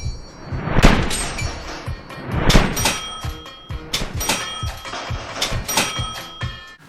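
A cash register sound effect from the film Lord of War rings over AK rifle fire, a run of loud metallic clangs and dings repeating in quick irregular bursts, close and bright.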